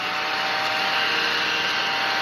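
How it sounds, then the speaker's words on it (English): A small desk vacuum cleaner sucking up eraser shavings gives off a steady whirring motor hiss, loud and close, held evenly throughout with no talking. "It's a vacuum cleaner for my eraser shavings."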